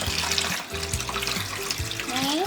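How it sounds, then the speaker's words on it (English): A nearby sink gurgles as it drains during a guinea pig bath, a continuous bubbling, watery rush with a few rising gurgles toward the end. "Do excuse the other sink making a gurgling sound"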